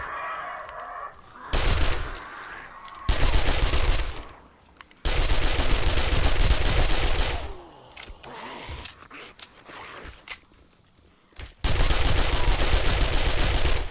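Bursts of automatic gunfire from base defenses in the survival game 7 Days To Die, loud sustained volleys of several seconds separated by short pauses and quieter scattered shots.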